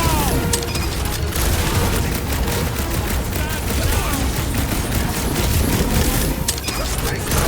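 Frantic gunfire in the action game Marvel's Guardians of the Galaxy during a frenzied space battle, with rapid continuous bursts and booms layered over loud combat noise and shouted voices.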